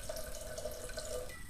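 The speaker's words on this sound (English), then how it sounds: "I'm just going to add just a splash more sherry" A splash of sherry poured into a pan for a red pepper sauce, a faint steady trickling stream of liquid heard close up for a brief moment.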